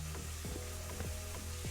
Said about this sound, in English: what are you frying?